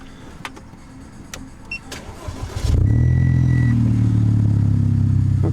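An Audi A5 with an RS5 kit and a stage 3 hybrid turbo cranks briefly and fires up, settling into a loud, steady, deep idle up close after a few clicks and rustles.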